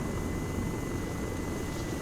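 A VTOL aircraft in helicopter mode in Arma gives a steady, even drone of engine and rotor noise. It stays at constant loudness for the whole two seconds, with no voices.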